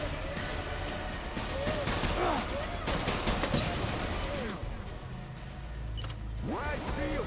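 Gunfire in the video game Death Stranding, a dense, continuous fusillade of rapid shots and bursts that stays loud throughout, mixed with chaotic combat noise and game effects.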